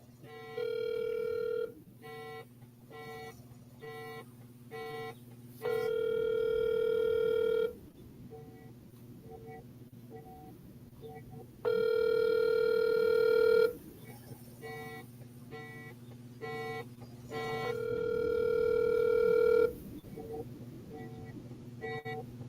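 A phone ringing out while calling someone: repeated rings in regular bursts, steady and fairly faint, alone with no voices over them.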